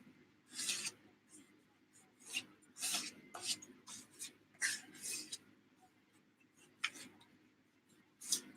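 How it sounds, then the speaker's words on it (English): A credit card scrapes wet paint thin across a surface in an art journal, giving repeated short, dry raspy strokes in irregular bursts, fairly faint and close with no talking. "you can scrape it good enough to get the paint thin so it'll dry"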